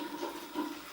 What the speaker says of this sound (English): And you might be able to hear there the glugging.